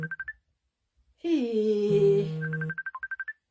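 A phone ringtone sounds in short repeated electronic beeps, broken by a longer loud burst of other sound, then the rapid beeping ring resumes; a voice briefly says a word.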